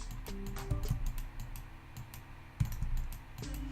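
Computer mouse clicking while painting in Affinity Photo: a scattering of sharp, light clicks at irregular intervals over faint background hum, close and quiet with no talk.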